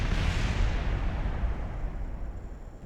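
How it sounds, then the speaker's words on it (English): A missile explosion in a video game sounds as one loud, broad boom that fades away steadily over a few seconds with a rumbling low tail. "Direct hit with a missile."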